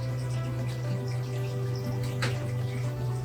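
Water flowing through an aquarium drain after the valve is opened, a steady close rush and trickle with a few splashy drips over a constant low hum.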